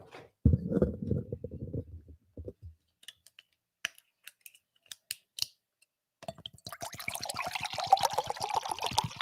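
Water is poured into a mug, preceded by a low rumble and scattered sharp clicks of handling, then a steady trickling pour builds up close for the last few seconds.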